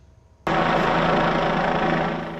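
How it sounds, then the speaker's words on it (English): Georgia State Patrol helicopter hovering over a residential neighborhood at night, a steady loud rotor and engine roar that cuts in abruptly and holds, with no talk. "a Georgia State Patrol chopper hovered over the Pleasant Hill neighborhood looking for those 3 people"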